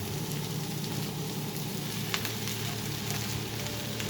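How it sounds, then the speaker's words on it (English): Peppers and onions fry over high heat, giving a steady, close sizzling hiss with faint crackles and no talking. "when your onions are starting to turn a little glossy here, starting to turn a little brown, I'm going to throw in our peppers now."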